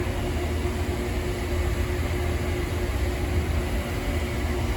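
Maple sap coming to a boil in the trays of an evaporator during startup, a steady broadband rushing roar with constant hiss, even and unbroken throughout, no voices.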